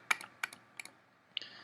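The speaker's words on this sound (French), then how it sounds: "si on appuie sur la touche Alt du clavier" Computer keyboard keys tapped while using Adobe Illustrator CS3, four or five crisp, separate clicks spaced unevenly, close and clear against a quiet background.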